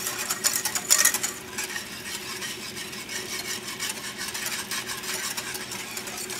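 A spoon or whisk stirs chocolate pudding in a pot with a steady scraping, rubbing rhythm. The sound stays moderately quiet and even, and there is no talk over it.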